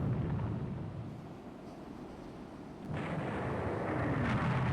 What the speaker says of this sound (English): Torpedo tubes explodes, fire started